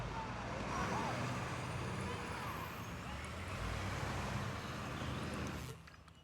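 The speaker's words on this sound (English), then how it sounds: "Here come moving trucks." Moving trucks arrive in the city-building game SimCity, a soft, distant hum of truck engines and traffic with a faint air-brake hiss, quiet and steady before it cuts off, with talk over it.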